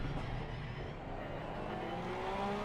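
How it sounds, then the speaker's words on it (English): Onboard engine of the Adept Porsche GT race car at Paul Ricard during a GT Sprint Series round, a steady close drone with engine tones climbing gradually as it accelerates. "On board with the Adept Porsche entry."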